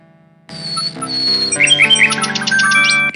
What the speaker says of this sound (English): The little bird makes a delivery.